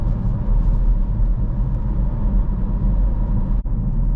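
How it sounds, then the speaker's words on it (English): Steady low engine rumble inside a manual car while shifting down from fifth to third, a continuous close drone with a brief dip near the end as the clutch engages. "When it comes to changing down gears, adding a little gas can really help smooth out the gear change"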